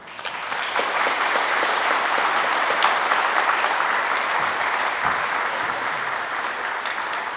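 An audience at the 2024 Red Maple Legend awards ceremony breaks into steady, loud applause as Chief Kai Lu comes to the podium. The clapping holds at an even level throughout, with no speech over it.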